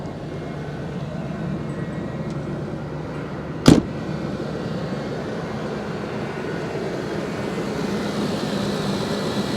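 Engine of an old ranch truck with about 212,692 miles and new injectors, idling in a steady low drone, with one sharp click or knock partway through and no talk.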